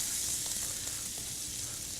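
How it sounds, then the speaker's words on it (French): Small diced vegetables sautéing in a hot pan, a steady close sizzle with soft stirring texture throughout, no voices. "je viens dans ma poêle, je viens faire sauter des petits légumes pour l'assaisonner."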